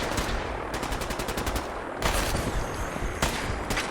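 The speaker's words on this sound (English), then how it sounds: "The main problem is I think the gunners are also shooting at us." Gunners firing in Fallout 4, dense rapid bursts of automatic gunfire that crackle loudly and continuously, with fresh volleys starting partway through.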